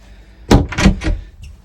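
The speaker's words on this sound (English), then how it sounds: "the garage door does hit with the lid down" Cabinet door on a Jeanneau 379 sailboat knocking against a Raritan Marine Elegance toilet lid, a few close soft wooden thunks in quick succession, then a faint tap.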